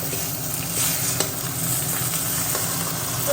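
Bottle gourd frying in a pan gives a steady, close sizzle with faint stirring scrapes, continuous and dense from start to finish, with no talking.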